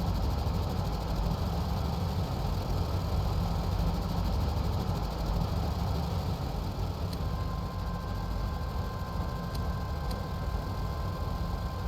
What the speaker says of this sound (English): these 6 engines are working hard.